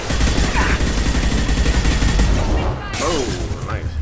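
Sustained gunfire from a Mass Effect 2 firefight, a dense continuous volley of shots and bursts with impacts, loud and close throughout, with voices speaking over the shooting.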